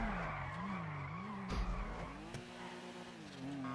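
Car drifting in GTA 5, an engine note rising and falling steadily with a brief skid and tire squeal around the middle, fairly loud and continuous with no talk.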